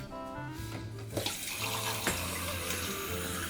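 Tap water runs steadily into a kitchen sink, a continuous close splashing rush with a few louder clunks partway through and no talking.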